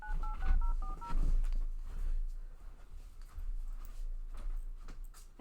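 Telephone dialing tones while calling back into a conference call: a quick run of about seven stepped beeps, followed by low thumps and background shuffling.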